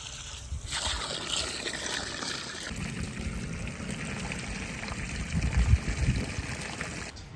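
Water from a farm tap runs steadily and trickles, a close continuous splashing flow that swells slightly in the middle.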